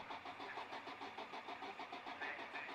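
A racing car at an Oulton Park spring race day cranks over and over without firing, a steady rhythmic mechanical churning heard at a distance and at low level, with no talking.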